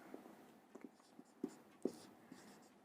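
Pen or chalk writing out a math solution for a Class 10 real numbers lesson, a series of soft, irregular scratches and taps, close and quiet, with no voice over them.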